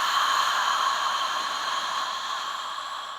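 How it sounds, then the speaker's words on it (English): A long, steady, airy exhale through the mouth during a yoga core exercise, a soft continuous breathy hiss that fades slightly toward the end. "as you exhale through your mouth"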